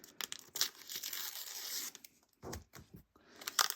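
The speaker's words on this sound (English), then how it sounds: "But I just like to use masking tape" Masking tape torn off the roll in a quick ripping strip, followed by a short crinkle and a second tearing burst, close up and loud with no voices.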